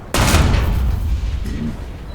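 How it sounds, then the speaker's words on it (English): A Crusader tank fires in War Thunder, a sudden loud cannon boom with a long rumbling tail, then a second softer report about a second later. "The Crusader starts shooting at where he thinks I am"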